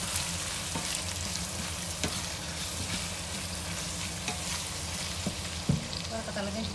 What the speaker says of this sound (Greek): Το κατέβασα εγώ λίγο για να σοταριστεί και το κρεμμυδάκι.